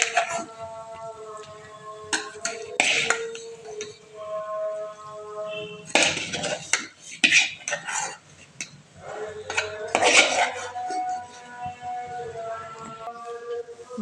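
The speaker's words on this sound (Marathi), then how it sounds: "मग त्याला छानपैकी सगळं मिक्स करून घेऊयात." Ground spice paste and turmeric being mixed in a cooking pot, with spoon scrapes and clinks against the metal in bursts over a steady tonal background, close and moderately loud.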